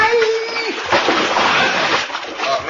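A big log crashes and splashes down into a river as a radio drama sound effect: a loud, close burst of sloshing, splattering water lasting a couple of seconds.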